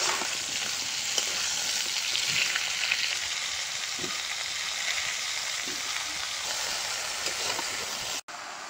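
Water lilies fry with crushed garlic and green chillies in a pan, giving a loud, steady sizzle and crackle throughout. A brief clatter sounds near the end.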